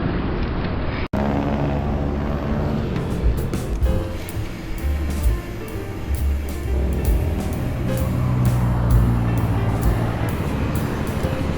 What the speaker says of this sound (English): traffic is building up